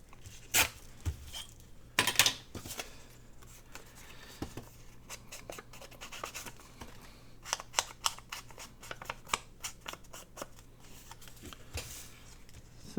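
Paper junk mail torn along a ruler in a craft session, heard as a series of short, close, crisp ripping and rustling bursts scattered over about thirteen seconds, with small handling clicks between them and no talk.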